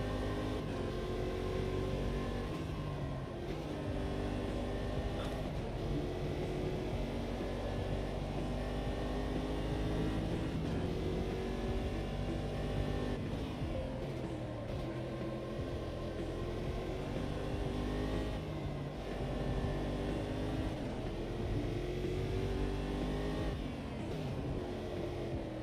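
Race car in Automobilista 2, a continuous loud engine drone with rising and falling revs through gear changes, heard close and steady throughout with no pauses.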